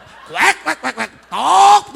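A voice imitating farm birds, alternating nasal duck quacks with clucking chicken calls in a quick, playful run of short syllables, close and loud.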